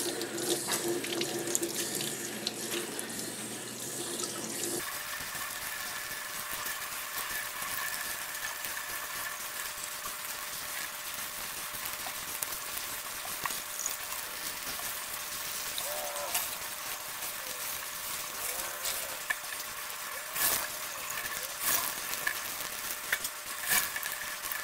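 Tap water runs into a sink as a reverse spiral scrunch ice-dyed shirt is rinsed out. The steady gush grows fuller after the first few seconds, with soft splashes and handling sounds as the fabric is worked under the flow.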